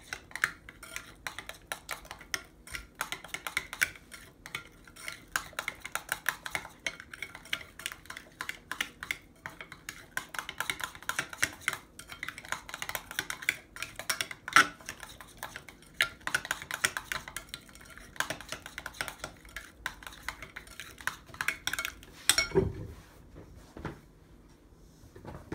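A spoon or utensil clinks rapidly against a bowl while mixing ingredients with sugar and sesame oil, a busy continuous scraping and tapping rhythm that stops near the end.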